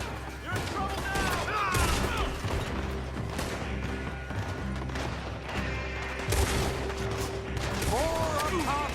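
Dense gunfire in a Red Dead Redemption 2 shootout, loud and continuous, with rapid shots layered over explosions and crashing debris, and voices shouting in the mix.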